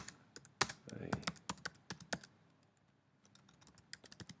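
Someone types HTML paragraph code on a computer keyboard, a close, uneven run of crisp key clicks that comes in bursts, with quieter taps trailing off toward the end.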